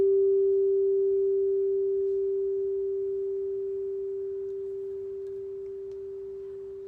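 A single G note rings steadily and alone, slowly fading while it sustains.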